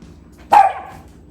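A pet dog named Douglas in a home kitchen gives a single sharp, close bark that fades into brief ringing room echo, with no talk over it.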